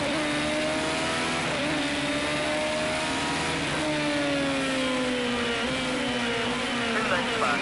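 A race car engine in a racing video game drones loudly and steadily, its pitch sliding through gear changes as the car runs the Chinese Grand Prix circuit.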